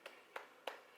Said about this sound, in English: Claps all around.